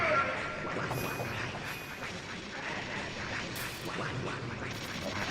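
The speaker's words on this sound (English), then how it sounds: "It really does just sound like duck sounds." Metal Gear Solid gameplay gives off a steady run of quacking duck-like squawks. They repeat rapidly over a dense, continuous game background, with talking mixed in.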